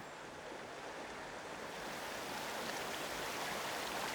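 Steady broadband rush of river water flowing by the strand at Ballinrodgery Castle on the Fitzgerald estate, River Feale, continuous and fairly close with no voices.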